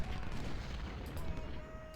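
Muskets fire in volleys in the Civil War strategy game Ultimate General, a dense rolling crackle of gunfire with dull booms, steady and moderately loud throughout with no talking.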